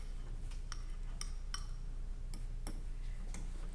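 Fork or spoon tapping and scraping against a bowl while mixing hard-boiled egg yolks, a handful of light, sharp clinks spaced irregularly over a low steady background hum.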